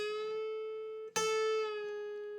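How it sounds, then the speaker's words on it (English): Sustained guitar note on the B string bent up a half step, a bright plucked tone with rich overtones, re-struck partway through and ringing steadily to the end, alone and fairly quiet. "now here's our first little bend. Now this is just a half bend."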